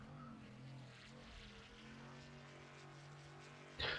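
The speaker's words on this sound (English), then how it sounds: "Scott revving his engine up." A race car engine in a racing video game drones with a steady, buzzing, layered hum that climbs slightly, ending in a short loud burst.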